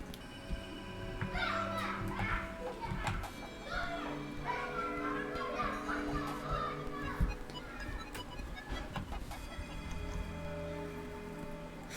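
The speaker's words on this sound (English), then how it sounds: "it was kids yelling" Children yell and play in the distance, their faint shrill voices running steadily behind a quiet indoor room with light ticking and shuffling sounds.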